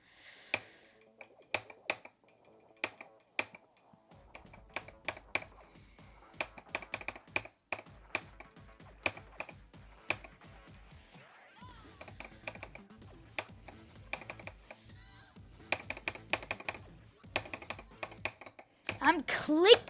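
Keyboard keys clicking in quick rhythmic bursts during a rhythm game, close and crisp, with steady patterns of taps across the whole stretch and a voice talking at times.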